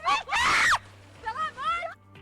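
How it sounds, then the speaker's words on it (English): A woman screams in panic and fear during a storm drain accident, shrill and loud, in a long cry followed by shorter frantic shrieks and wails. "the aunt filming the video can be heard panicking and screaming in fear"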